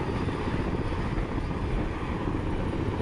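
A helicopter chopper flies overhead, its rotor and engine roar steady, loud and close throughout with no voices.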